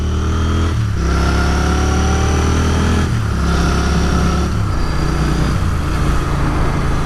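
Royal Enfield Continental GT 650 parallel-twin engine under way, loud and close with a steady thrumming exhaust note, dipping and rising through several gear changes as the bike accelerates.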